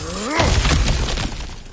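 Objects smashing in God of War Ragnarök: a loud shattering crash with splintering debris, followed by scattering fragments that fade out.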